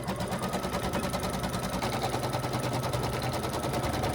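An embroidery machine stitches the outline of table runner pieces with a rapid, even, rattling pulse that holds steady throughout, close up and with no talking.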